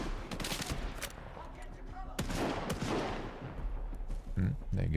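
Rapid bursts of gunfire from a firefight in Stalker 2, loud and close, with sharp repeated shots and overlapping volleys across the whole stretch, some heavier cracks standing out.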